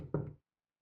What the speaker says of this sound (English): You knock again.